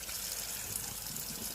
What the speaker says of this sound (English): I'll add some cold water to it